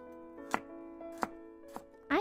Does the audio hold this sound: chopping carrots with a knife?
yes